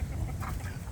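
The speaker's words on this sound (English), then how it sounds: "how many ducks we got here?" Ducks on a suburban homestead give a short burst of quacking, several birds close together in a brief, loud, overlapping chatter.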